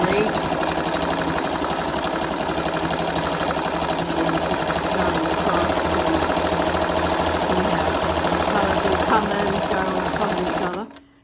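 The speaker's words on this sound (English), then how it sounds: "This machine is a Benina 1230" A Bernina 1230 sewing machine runs steadily while stitching with variegated thread, a loud, fast, even mechanical chatter with no pauses that cuts off abruptly at the end.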